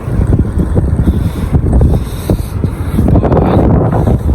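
Strong wind gusting across an outdoor microphone in a cold place, a steady low rumble with surging buffets throughout and no voices.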